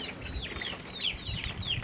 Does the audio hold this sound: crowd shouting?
no